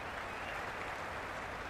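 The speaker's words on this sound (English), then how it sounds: "The crowd are really getting quite raucous." A cricket stadium crowd at an India versus New Zealand match, cheering and applauding in a dense, continuous wash of clapping and roar that holds steady and loud throughout.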